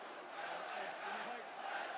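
A large arena crowd cheering during a WrestleMania 41 match, a steady, distant-sounding roar of many voices that swells slightly, heard alone without commentary.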